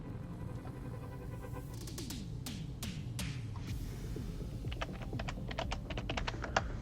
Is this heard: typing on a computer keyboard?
yes